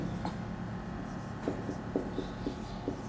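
Chalk scratching and tapping on a classroom board during a science lesson, a series of short, irregular strokes close by with no talk over them.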